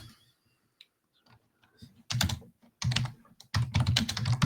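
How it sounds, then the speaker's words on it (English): Bursts of typing on a computer keyboard, rapid clustered clicks coming in three quick runs after a near-silent start, close and fairly loud, with faint voice murmur underneath. "Let me just type that."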